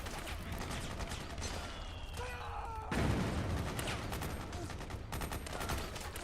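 Gunfire from a shooter video game, a dense burst of shots with a sharp, loud blast near the middle over a busy game soundscape, with a voice briefly audible.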